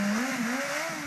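A car engine revving during a street stunt, one short rising roar with a climbing pitch, close and loud, with no talking.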